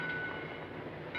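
A train idles at a station platform with a steady low rumble and broadband mechanical hum, a faint whistle-like tone running through, continuous and fairly close throughout.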